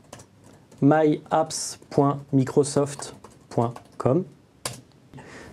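Keys click in short bursts on a computer keyboard as a URL is typed, faint and close, under someone speaking steadily throughout.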